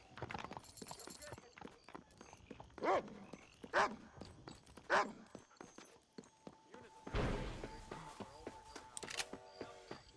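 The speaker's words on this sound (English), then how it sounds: "Might be good to follow that dog there" A dog barking in the western video game Red Dead Redemption, with three distinct barks spaced about a second apart amid clopping horse hooves and outdoor game ambience.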